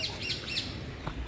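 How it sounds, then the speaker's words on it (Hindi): Birds chirp in repeated bright, high calls outdoors on the grounds of the National Crafts Museum in Delhi, with steady open-air background noise throughout. "जैसे गांव में ऐसे चिड़िया बोला करती हैं, वैसे यहाँ पर भी वैसे चिड़िया बोला करती हैं"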